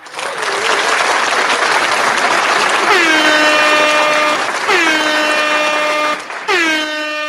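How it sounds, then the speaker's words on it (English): Several long blasts of an air horn over loud crowd-like noise, each a brassy multi-tone wail that slides down, repeated three times. "Gotta give myself multiple air horns for that."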